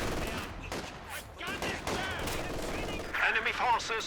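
Gunfire in a Company of Heroes 2 battle: a few sharp shots amid a dense mix of battle noise and a commentator talking throughout.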